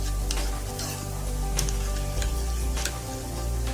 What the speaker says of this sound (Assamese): মছলাখিনি ভালদৰে ফ্ৰাই কৰি মই ইয়াতে অকণমান হিং দিম